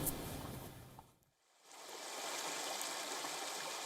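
Flood water rushing through a huge underground drainage facility in Tokyo, a dense, steady roar that dips sharply for a moment and then swells back to full strength.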